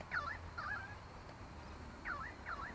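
A crow calls outdoors during a drone flight, giving four harsh caws in two pairs, fairly faint and distant over steady background noise.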